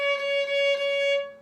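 One sustained violin note bowed on the A string, clear and steady with rich harmonics, held for just over a second before fading, heard alone.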